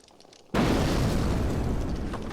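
A single loud gunshot bursts in The Sims 4 after a quiet moment, its sharp onset trailing into a sustained, noisy rumble.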